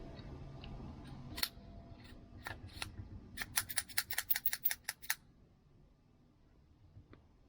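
A V-cut cigar cutter snips into a cigar, giving one sharp click, then a few more, then a quick run of crisp clicks and snaps close up in a quiet room.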